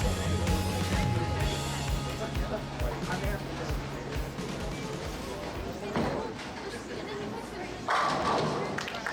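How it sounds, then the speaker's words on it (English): A bowling ball rolls down the lane and crashes into the pins for a strike at a youth bowling tour event, with a rumbling roll, a clattering impact and crowd chatter throughout. "Big time strike to start."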